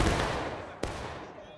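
A single sharp period-musket gunshot cracks out within the War of Rights battle on the Bloody Lane map, standing above a dense wash of distant gunfire and crowd noise in a 200-player Civil War engagement.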